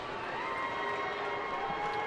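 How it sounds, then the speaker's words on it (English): A baseball crowd at a Phillies–Diamondbacks game in Arizona chants a long, drawn-out "Chooch" for catcher Carlos Ruiz, a sustained chorus of many voices holding one steady tone at even loudness from start to finish. "the Chooch chants go up here"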